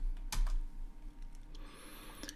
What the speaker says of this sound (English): I'm just going to type in Python command line arguments